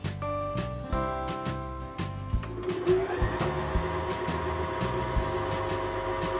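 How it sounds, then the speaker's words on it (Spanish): A Janome 2030QDC sewing machine starts winding a bobbin, first with a few clicks and short whirs, then settling into a steady, close mechanical whine with a faint rhythmic clatter. "Sujetamos el extremo del hilo y ponemos en marcha la máquina."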